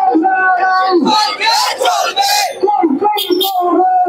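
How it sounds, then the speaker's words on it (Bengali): A marching procession of men and women chants protest slogans in unison, loud and close, the massed voices rising and falling in rhythmic shouted phrases. "নানা রকম স্লোগান দিচ্ছেন তারা"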